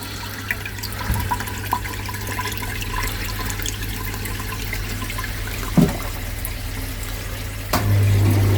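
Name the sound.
water running through drain during purge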